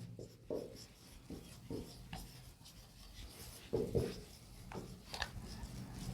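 Marker or chalk writing on a classroom board: a series of short scratchy rubbing strokes in irregular bursts, quiet and close, with some louder strokes near the end.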